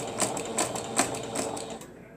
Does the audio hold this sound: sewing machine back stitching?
yes